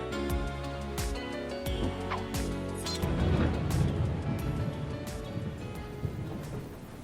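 In the video game Trails of Cold Steel 4, heavy summer rain falls steadily, with rolling thunder rumbling low and growing louder midway before easing back under the downpour.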